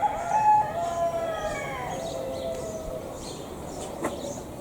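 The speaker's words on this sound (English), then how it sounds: "this is more rural Giverny, and here in the cocks crow" A rooster crows in a long, falling cock-a-doodle-doo at a farmhouse in rural Giverny, fairly near over a steady outdoor rumble, with a faint sharp click near the end.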